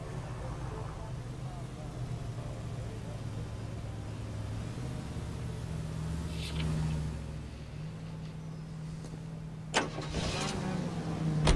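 A car in the video game L.A. Noire drives along, its mid-pitched engine droning steadily underneath, with a few short sharp bursts near the end while people talk over it.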